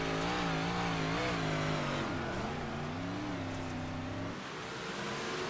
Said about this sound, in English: One car going around on the front straightaway